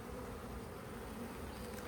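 Honey bees buzz steadily around an open hive during a colony inspection, a close, continuous drone of many insects with no talk over it.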